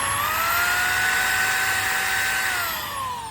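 A drill whines steadily and loudly while cleaning rust off Kawasaki ZX-10R engine parts, its pitch holding high and then dropping slightly near the end, with no talking.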